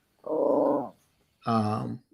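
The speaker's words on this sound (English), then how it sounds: "I hear growling" A small dog growling in two separate low, rumbling bursts of under a second each, close by, with a brief silence between them.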